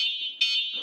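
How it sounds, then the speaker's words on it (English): A TAMOBYKE 1,000-watt electric bike horn beeps as a loud, shrill electronic tone, held for under a second with a brief jump in level partway through. "Horn."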